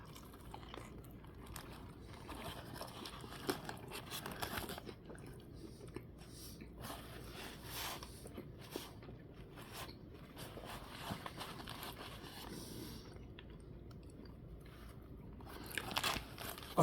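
Someone bites into and chews a Burger King fiery bun burger, a long run of soft crunching and moist chewing close to the mic, steady and quiet with a few sharper bites.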